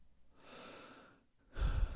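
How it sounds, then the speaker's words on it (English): A man yawns during a late-evening football watchalong stream, one soft drawn-out breath followed by a louder, breathy exhale close to the microphone. "It's only the second yawn of the stream"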